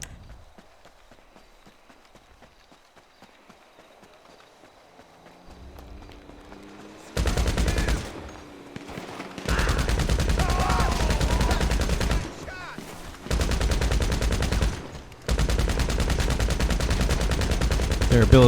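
Bursts of gunfire in GTA Online, the Old School contact mission, break out after a quiet opening and repeat in several loud sustained volleys separated by brief pauses.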